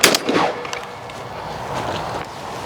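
A single sharp blast from a semi-automatic shotgun fired at a clay target, loud and close at the start, followed by a decaying outdoor echo and quiet range ambience.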